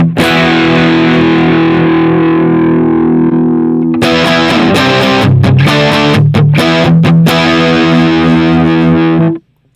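Electric guitar played through an amp's drive channel into a 65 watt cab, miked off axis with a condenser 87: a loud, distorted sustained chord rings out, then gives way to choppy, rhythmic palm-muted stabs before cutting off abruptly.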